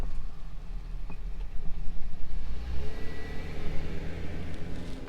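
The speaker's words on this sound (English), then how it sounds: "It'll block some of the cars." Cars pass by outside a quiet indoor room, making a steady low engine rumble that swells and fades, heard through the walls with no talk.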